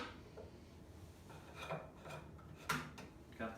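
A metal nut being tightened on a workbench vise, heard as quiet scraping, rasping and clinking at close range, with a few sharper metallic knocks toward the end.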